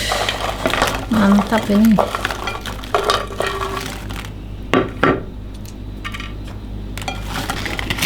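Spicy crispy snack being stirred with chili sauce in a container, a few close scraping and clinking stirs between stretches of talk, with quieter rustling later.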